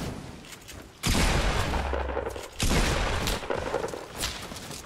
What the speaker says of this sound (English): He's being shot at, by the way.